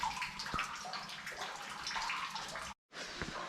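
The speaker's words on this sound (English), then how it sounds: "Let's get across this little stream without getting my feet wet." A small stream flows over stones on a Lake District fell walk, steady close babbling and gurgling water with a brief dropout near the end.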